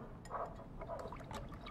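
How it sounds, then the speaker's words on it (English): A whisk stirs a garlic, lime juice and soy dressing in a bowl, giving a quiet, continuous wet swishing and clinking that runs for under two seconds with no talking. "I'll start whisking this up"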